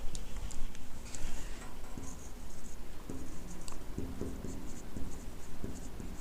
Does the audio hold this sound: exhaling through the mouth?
no